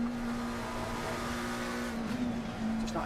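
A McLaren race car in Assetto Corsa Competizione drones at high revs through corners at Silverstone's Maggots and Becketts, a steady close engine whine with brief tyre scrubbing.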